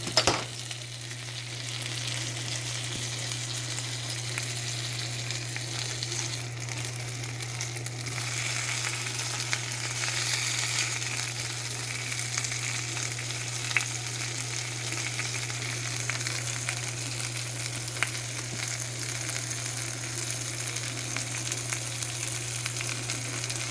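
A grilled cheese sandwich fries in butter in a pan, giving a steady, even sizzle with occasional faint crackles and a low constant hum underneath, close and uninterrupted with no talking.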